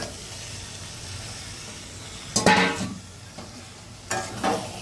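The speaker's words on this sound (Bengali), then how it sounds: "এখন এই দেখো তেল ছেড়ে দিয়েছে, আমি এই যে মাংসটা দিয়ে দেব" Meat drops into hot oil in a home kitchen, bursting into loud sizzling bursts over a low background hum, with a second flare of frying a couple of seconds later as it is stirred.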